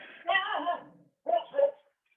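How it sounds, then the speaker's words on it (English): A pet dog named Elsie, just roused from an hour's sleep, gives a drawn-out whimpering yelp followed by two short barks nearby, with a quiet pause between them. "I have a dog with me who's just woken up, who's been sleeping for the last hour"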